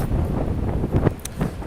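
Strong wind buffets the microphone on a snowy New York street by the Port Authority bus terminal, a rough, gusting rumble over a brief stretch.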